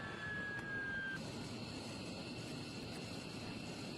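A military jet plane roars steadily at a distance, a broad sustained engine rumble with a thin high whine briefly fading early on, no voices.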